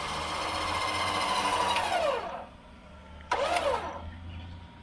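An electric winch motor whines as it spools cable onto its drum, running for about two seconds, winding down, then giving another short burst that fades.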